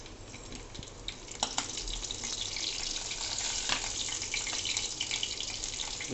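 Garlic sizzling in leftover frying oil, added after asafoetida, a steady hissing crackle with scattered pops that stays loud and close throughout with no talking.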